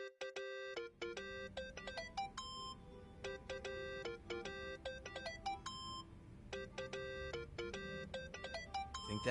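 Phone ringtone from the video game Yakuza: Like a Dragon, a bright repeating electronic melody playing in bursts for the whole span, loud and close over a low game backdrop.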